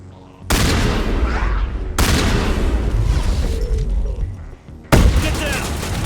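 Loud, close shotgun blasts in the video game Mass Effect, three abrupt booming shots in uneven succession, each followed by a long rumbling roar of combat noise.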